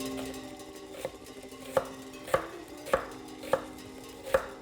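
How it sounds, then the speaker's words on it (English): A sharp knife slices an onion into wedges on a cutting board, making crisp, evenly spaced cuts about every half second, close and clean, with a faint background hum and no talking. "Try not to chop the onion, but slide the knife through it."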